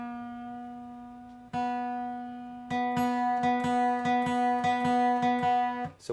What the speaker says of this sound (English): we're now going to be tuning the B string